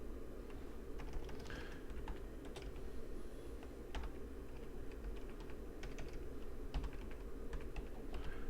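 Steady typing on a computer keyboard, a run of quiet clicks and taps at an uneven pace over a low, constant hum, with no talking.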